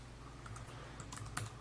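Steady typing on the keyboard of a Motorola Atrix 4G laptop dock, soft clicks and taps running continuously at moderate volume with a few sharper key strikes.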